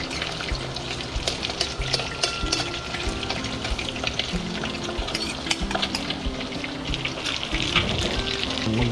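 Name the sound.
mung beans being sautéed in a pan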